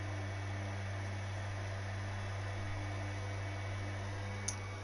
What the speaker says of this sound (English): Every car just idling at the moment.